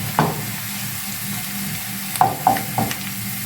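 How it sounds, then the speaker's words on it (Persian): Onions frying in a pan until golden, a steady low sizzle with a few sharp scraping stirs near the end, close and moderately loud, no talking. "اجازه میدیم تا پیازامون کاملا طلایی بشه."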